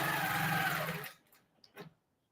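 A long arm quilting machine stitches down a quilt binding with a fast, steady mechanical whir that stops abruptly after about a second, followed by a few faint clicks and small bumps.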